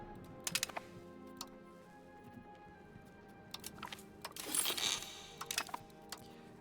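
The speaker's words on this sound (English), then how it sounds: "You're stepping on the keyboard." Paws press computer keyboard keys as a cat steps across them, producing scattered, irregular clicks and clattering taps in bursts, close but fairly soft over background noise.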